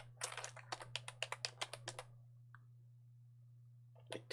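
Rapid keystrokes on a computer keyboard, a quick burst of about a dozen close, crisp clicks, then a pause and a few more presses, over a steady low hum.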